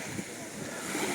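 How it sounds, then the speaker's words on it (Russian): Small sea waves wash at the beach in Alushta, a steady broadband rush of surf with wind buffeting the microphone, close and constant over the brief span. "Ну, немножко вот волн."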